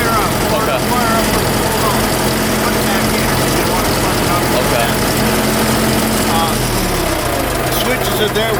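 A skid steer engine starts in freezing cold, around twenty below zero, then settles into a loud, steady low idle that runs continuously throughout, with someone talking over it.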